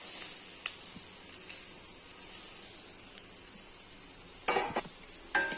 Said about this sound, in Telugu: అన్నీ వేసి బాగా మిక్స్ చేసుకోవాలి